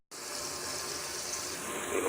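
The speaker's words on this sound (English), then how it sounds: "I'm going to fill it up with water" Tap water rushes steadily into a Powerade bottle, a continuous close hiss that starts abruptly and holds for about two seconds.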